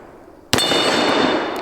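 A single sharp Magnum gunshot cracks out after a brief quiet moment, followed by a ringing, metallic tail that decays for over a second.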